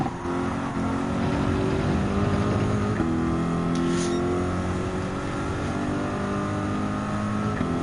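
Ferrari and Lamborghini race cars in Gran Turismo 7 during a manufacturers cup race, layered engine drones holding steady high-revving tones with small pitch shifts between gears, continuous and fairly loud.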